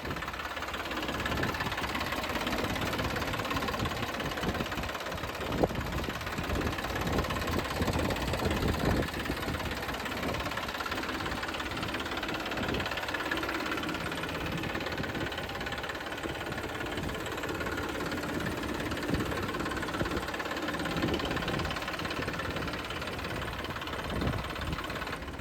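A Mahindra Yuvo tractor engine in good condition idles steadily for a long stretch, a continuous mid-pitched diesel rumble with a faint knocking rhythm and no talk.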